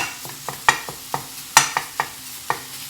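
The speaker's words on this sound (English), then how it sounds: "You're just going to saute this, like I said, for 5 minutes." Refried beans sautéing in a pan while a spatula or wooden spoon breaks them up, giving a run of irregular scraping and stirring taps over a low, steady sizzle, close and moderately loud.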